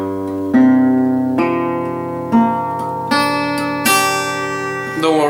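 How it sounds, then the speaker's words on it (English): Acoustic guitar in standard tuning with a capo on the third fret, strummed open chords about six times, each ringing out and decaying before the next strum, close and clear with no talking. "put your standard tuning and put a capo on the 3rd fret, and your strings should sound like this"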